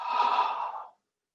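A single deep, slow exhale during a yoga breathing exercise, close and soft, lasting under a second and then falling to silence.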